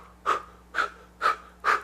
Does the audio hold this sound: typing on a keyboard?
no